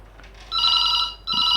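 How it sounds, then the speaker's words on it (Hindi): A Beetel M88 telephone rings after a call from an extension, giving two close electronic ring bursts separated by a short gap. "अब हम यहाँ पे इसमें रिंग करके देखेंगे एक एक्सटेंशन से और देखते हैं।"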